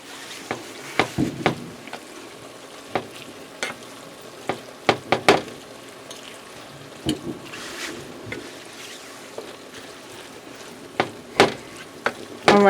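Seasoned crunch wrap filling cooks in a pan with a soft, steady sizzle, broken by scattered sharp crackles, pops and stirring clicks at uneven intervals; no one talks.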